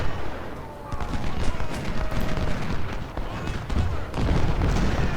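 Continuous loud battlefield gunfire and booming artillery from the Civil War strategy game Ultimate General, depicting the Second Battle of Bull Run. Dense volleys and rumbling blasts roll on without pause.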